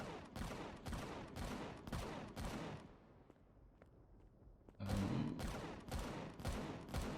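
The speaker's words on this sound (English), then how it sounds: "See what the guys are firing at." Bursts of automatic gunfire from an enemy patrol in the space survival game Empyrion Galactic Survival, rapid repeated volleys at moderate distance that pause briefly mid-clip, then resume with a louder, closer burst of shots.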